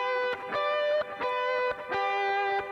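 A sustained G note on a sustained-tone instrument rings out and is restruck several times, each tone holding steady with rich overtones and short breaks between notes, with no voices.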